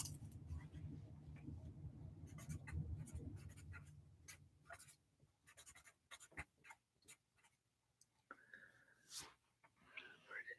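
A pen or pencil writing a name on paper during a doodling session, with soft scratchy strokes in quick irregular bursts, close and quiet, following a low background hum.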